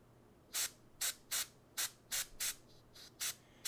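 Airbrush paint sprayed onto a miniature rock in short hissing bursts, about nine evenly spaced puffs, close and fairly loud over a quiet background.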